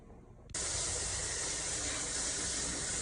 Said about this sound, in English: So we got a solid stream of steam.